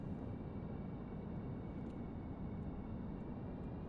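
A tail-dragger airplane taxiing slowly in the Stormworks game, a steady low engine drone with a broad rumbling hum, even and continuous throughout, no speech over it.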